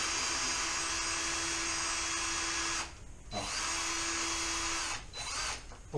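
A power drill whirs steadily while loosening screws on an Xmaxx RC car, running in two long bursts with a brief pause between them, loud and close.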